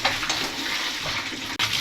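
Steady broadband water rushing from a tap while dishes are washed in a home kitchen, loud and close, continuous for the whole stretch with one brief dip near the end.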